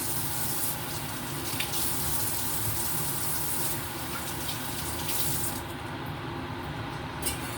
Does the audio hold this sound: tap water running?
yes